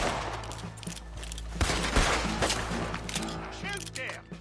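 Bursts of video game gunfire ring out in a busy PS4 shootout, sharp shots under a dense score and effects, with voices talking over the action.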